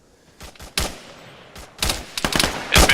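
Gunfire in the video game Modern Warfare, with several loud, sharp bursts of shots in quick succession that build toward the end.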